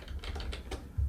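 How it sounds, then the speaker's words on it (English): Rapid computer keyboard typing during live editing of a site, a quick run of soft clustered keystrokes close by with no voices. "every time you're pressing a keystroke or a few keystrokes"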